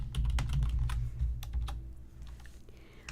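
Fast typing on a computer keyboard during a livestream: a quick run of clicky keystrokes, close and fairly loud over a low steady hum, with no talking.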